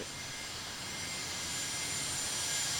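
Dassault Falcon private jet engines in a Tower! Simulator 3 airport scene give a steady, broad whooshing roar that holds level and swells slightly, with no voices over it.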